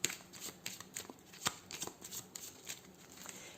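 A 32-card deck is shuffled and cut by hand, giving quick, close papery riffles and snaps in an uneven rhythm, with no talking.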